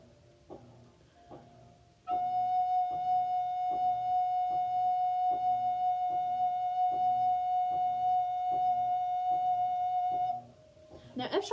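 A recorder holds a single steady F sharp, warm and gentle, for about eight seconds after a few soft preceding taps and faint background sounds, then stops abruptly.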